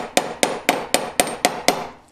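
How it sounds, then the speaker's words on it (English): A metal ring shank is struck on a block with a hammer to stretch it, seven sharp, evenly spaced metallic blows in steady rhythm, close and loud, with no voices. "And then hammering it with this kind of motion of stretching it up"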